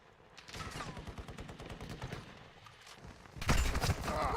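Rapid bursts of automatic gunfire in a multiplayer shooter video game, crackling in quick repeated volleys with a louder, closer burst near the end.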